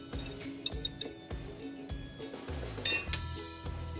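A glass baking dish being picked up in a kitchen gives a series of close, light clinks and knocks of glass against a hard surface, one brighter chink standing out near the end.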